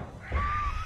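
A single crow caw in the horror game Dead by Daylight, one harsh drawn-out call close by over low rumbling game ambience.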